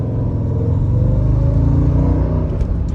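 A 2004 Mercedes E55 AMG, its supercharger bearing failed, is pushed into a drift: a loud, continuous engine rumble rises and holds with a faint whirring edge, then eases near the end with a couple of brief high squeaks, no talk.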